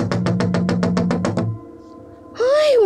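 Loud, rapid knocking on a door, about ten hard evenly spaced raps close up, followed by a short quiet and then a startled voice.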